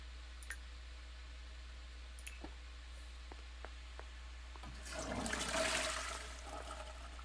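A toilet flushing in The Sims 4, a short rushing swell of water that rises and fades after a few faint clicks, heard alone at a moderate distance with no talk.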